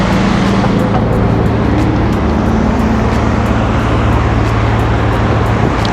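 Steady road traffic rolls past at close range, a continuous loud broadband rush with a low engine hum underneath and no voices.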